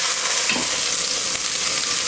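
Beef cheeks sizzle loudly in a hot pan as they brown, a dense continuous frying crackle close up, with a faint stirring scrape and no talking.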